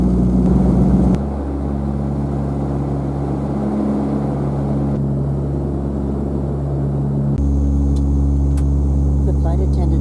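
Steady cabin drone inside a Widerøe Dash 8 turboprop in flight between Tromsø and Svolvær, a loud constant hum with low tonal lines, shifting level a couple of times.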